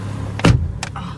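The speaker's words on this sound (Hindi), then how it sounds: "मैं गाड़ी में बैठ जाती हूँ सबसे पहले ही।" A car door swings shut as someone gets in, giving one solid, close thud followed by a short, lighter click, with no talking.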